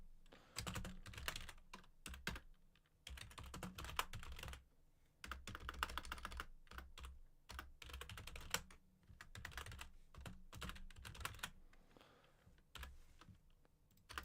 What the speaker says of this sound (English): Oh my gosh, I actually cannot type today.